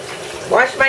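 Hands being washed under a running kitchen tap between cooking steps: a steady close hiss of flowing water with brief surges, and a voice speaking over it.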